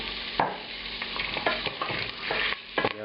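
Beef or venison fries in rendered bacon fat in a pan, sizzling steadily while the meat is stirred and scraped at irregular intervals, close and fairly quiet, with no talking.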